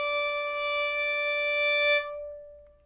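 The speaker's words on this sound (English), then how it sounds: "And D should sound like this." A violin sounds a single sustained D, fingered with the third finger on the A string, clear and close for about two seconds before stopping abruptly into a brief faint ring.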